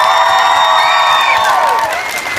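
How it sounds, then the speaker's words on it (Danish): A large audience in Svendborg cheers loudly, with shrill whoops and whistles over a dense crowd roar and scattered clapping. "Svendborg, giv lige basse med et kæmpe bifald."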